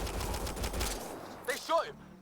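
Bursts of gunfire in the sci-fi video game Andromeda, a loud rattling volley filling the first second, then voices shouting over the fading fight.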